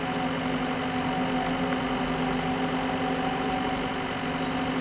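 A tractor engine idles with a steady low, droning rumble and a faint mechanical hum, constant and unchanging for several seconds, with no voices over it.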